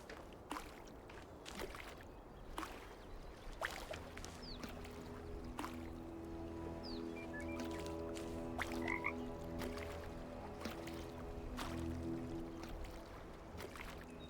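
Frogs croak in the video game The Talos Principle II, a run of repeated throaty croaks beside splashing and lapping water, close and moderately loud, with no talk.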